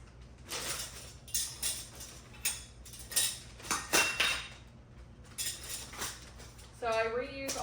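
Reused metal canning jar rings clink and clatter as they are handled and sorted, scattered bright metallic chinks at close range over a faint room hum, with a brief tonal squeak near the end.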